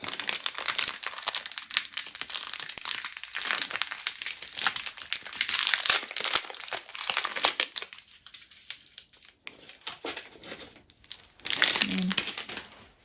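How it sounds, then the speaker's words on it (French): Desiccant sachets from a Bambu Lab P2S 3D printer torn open and handled, giving close, busy crinkling and rustling of packaging in repeated bursts, with a voice speaking briefly. "Donc ça, ce sont des sachets anti-humidité. Il faut les ouvrir et les replacer ici."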